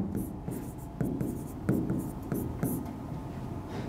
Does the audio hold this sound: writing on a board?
yes